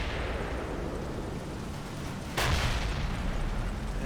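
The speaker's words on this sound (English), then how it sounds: "Panzer IV gets some eyes on over here and is blasting some American infantry in the woods" A Panzer IV tank gun fires on American infantry in the woods during a Combat Mission: Battle for Normandy World War II battle, one sharp heavy blast ringing out midway through a steady rumbling din of distant gunfire.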